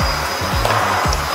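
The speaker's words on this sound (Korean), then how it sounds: "요거를 요 청소기를 이용해서 물을 회수하도록 하겠습니다" A Kärcher wet-dry vacuum cleaner sucks up dirty cleaning water from a floor, a loud steady whooshing roar with repeated low gurgling slurps as the water is drawn in.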